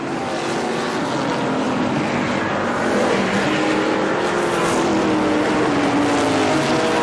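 ARCA SuperCars stock cars racing at Kil-Kare Speedway in 1998, a loud continuous engine roar with several cars droning together and rising and falling pitch sweeps as they pass, steady and dense throughout.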